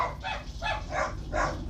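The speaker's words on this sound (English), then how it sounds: "Okay, there goes my dogs." Dogs bark four times in a steady rhythm over a low background hum, the barks moderately close and evenly spaced.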